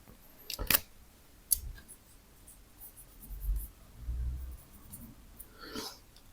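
Pen scratching on paper while a math solution to a vector problem is written out, with a few sharp strokes and soft low thumps of the hand against the page, faint and close.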